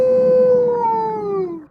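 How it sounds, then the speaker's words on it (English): A single long howl rises loud and close, then slowly slides downward and fades out, eerie and wolf-like, used as a sound effect during a tabletop role-playing game, with no talk over it. "you all hear the sound of a howl that seems to come from everywhere and nowhere at the same time"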